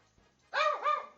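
A pet dog at home barks twice in quick succession, loud and close, after a brief quiet moment with faint background hum.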